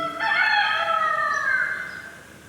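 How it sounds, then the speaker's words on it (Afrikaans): A rooster gives a single drawn-out crow, fairly close and clear, rising then slowly fading over about two seconds with nothing else around it. "En dan het daar 'n haan gekraai"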